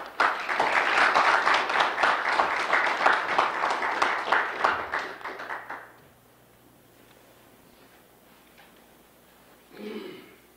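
An audience applauds to welcome an ambassador at a talk: dense, steady clapping from a room full of people for about five seconds, then thinning out and fading to quiet, followed by a brief voice.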